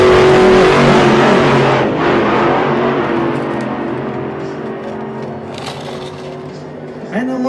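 Engines of a Camaro and a Vestas launching at a drag race event roar loudly and continuously, with a dense, steady drone that gradually eases off before a fresh rise near the end.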